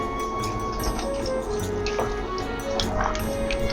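Hot spicy sesame oil drips into a pan of pork and soy milk stew, soft repeated drips and small liquid splashes close by over a steady background hum.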